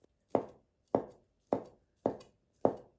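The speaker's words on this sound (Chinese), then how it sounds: "2根火腿肠切开" A knife cuts through ham sausages on a board in five evenly spaced chops, each a crisp thud that dies away quickly, close and clear with no talking.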